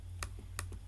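Typing code on a computer keyboard, two quick pairs of crisp close key clicks over a low steady hum.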